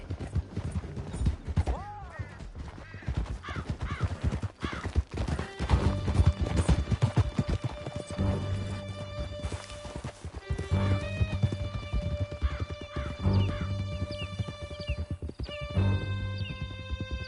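Horses gallop in Red Dead Redemption 2, the hooves pounding in a quick steady clip-clop with whinnies and a crash on top, loud and close, as tonal music rises behind them.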